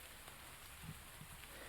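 Steady rain patters on the ground in the video game Doki Doki Literature Club, a quiet, even hiss with faint scattered drops and no voices.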